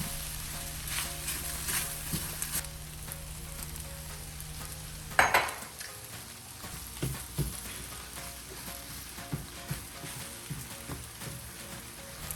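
Thai pineapple fried rice is stir-fried in a pan, with a steady close sizzle, scraping and clinking of a utensil against the pan, and a sharp clatter partway through, continuing without talk.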